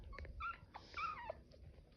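A four-week-old long-coat blue chihuahua puppy lets out thin, high whimpering yips and short howl-like cries in quick bursts, close by with a low indoor rumble beneath and no talking.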